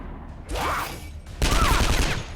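Sniper shots ring out in the turn-based video game Skyshine's Bedlam as two loud, close bursts with a sweeping whistle-like tail, separated by a short lull.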